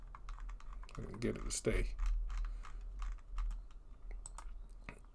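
Keys tapped on a computer keyboard for a Control-Alt-Delete shortcut, a quick cluster of close clicks alongside a person talking.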